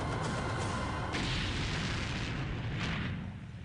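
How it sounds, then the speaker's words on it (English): Airstrike explosion on a house in Iraq, a loud sustained boom and roaring blast rumble that fills the whole stretch, then begins to fade at the end, with no talk. "A Delta operator calls an airstrike on the house."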